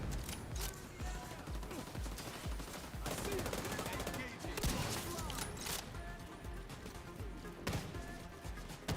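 Rapid run-and-gun gunfire in The Division 2 rattles in dense automatic bursts for most of the span, loud and busy, with a few sharper cracks standing out and a dense game mix underneath.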